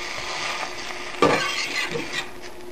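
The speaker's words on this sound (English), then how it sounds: "can tell when it's done by the amount of sizzling that it gives off" Pancakes and eggs sizzle steadily in a hot pan, with a close scraping slide of a spatula and a soft clatter partway through, the frying hiss continuing underneath.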